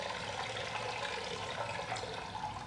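A character in the game Fahrenheit urinates, giving a steady hiss of liquid splashing into a toilet bowl that continues without a break, moderately quiet.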